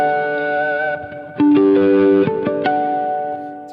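Electric guitar with effects and reverb chiming bell-like harmonics at the 12th fret across the D, G and B strings, a few ringing notes over a sustained distorted backdrop, loud and close.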